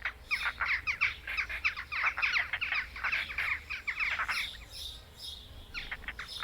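Jackdaws and European rollers squabble noisily over nest sites, a dense stream of harsh, overlapping calls and chatter lasting throughout, close and loud with brief lulls near the end.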